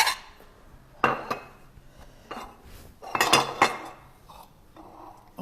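Plates and dishes clink and knock as they are set out for serving delicate Catalan cannelloni, one plate per portion, in a traditional campsite kitchen; several separate bursts of ceramic clatter and cutlery clinks, close and moderately loud.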